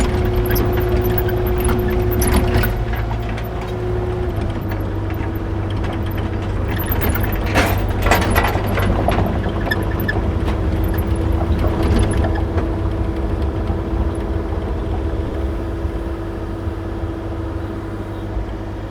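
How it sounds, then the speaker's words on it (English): A mini excavator loading onto a trailer for tree stump removal, its engine droning steadily and loudly throughout, with clanking tracks, rattling metal and sharper clatters in the middle as the machine shifts and climbs. "We're going to load up this Mini X onto the trailer over here"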